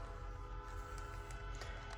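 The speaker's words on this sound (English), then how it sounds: "here comes the choo-choo train. Loud and clear." A train rumbles past with heavy low-end roar and steady rail noise, loud and close throughout, with faint clicking accents; no voices.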